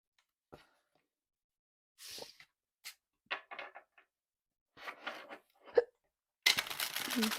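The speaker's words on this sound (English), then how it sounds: "I just got the hiccups" Several short, abrupt hiccups from a woman, spaced irregularly and fairly close, with a brief bit of talk and a louder broadband rustle near the end.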